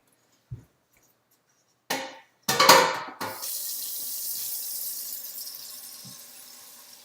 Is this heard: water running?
yes